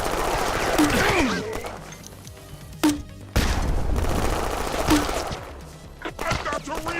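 Rapid gunfire and heavy booms from an old-school boomer shooter video game fill the clip in dense, loud bursts, with excited voices talking over the shooting.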